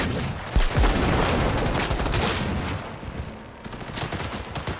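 Rapid gunfire in a shooter video game, dense bursts and fusillades crackling without pause, loud and close, with heavier thumps early on.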